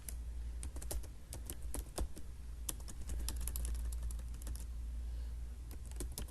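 Steady, brisk typing on a computer keyboard during a computer training lesson, crisp clicks of uneven rhythm running throughout, close and clear over a low hum.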